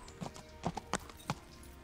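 A horse's hooves clip-clop in the video game Kingdom Come: Deliverance, a handful of quiet, uneven hoof strikes over a couple of seconds against a faint background.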